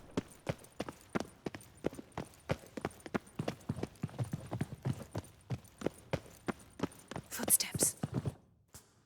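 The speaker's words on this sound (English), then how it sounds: "Footsteps." Footsteps in The Witcher 3, a long run of steady, evenly spaced steps that sound like hooves on hard ground, with brief whispering near the end before the steps stop.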